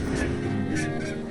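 A little bird honks in the Broken Age video game: a steady run of loud goose-like honks filling the whole moment, close and continuous, with no voices.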